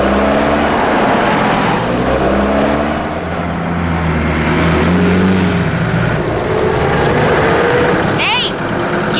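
Several road vehicles roll in with steady engine hum and tire rumble, a dense continuous traffic drone close by for the whole stretch, with a brief higher whine near the end.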